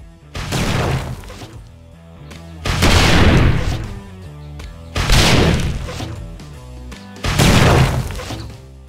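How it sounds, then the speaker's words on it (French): Rockets slamming into a wooden block in 7 Days to Die: four heavy explosions spaced about two seconds apart, each a loud booming blast with a crackling, splintering tail, close and unaccompanied by talk. "Il faut donc 3 roquettes pour faire exploser directement le bloc."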